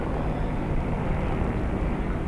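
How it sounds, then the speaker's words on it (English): Dense, continuous broadband roar of an aircraft passing low and loud overhead near a hospital beside a high school baseball championship game, steady and unbroken, with no talk. "I don't know if we have a helicopter coming into the hospital."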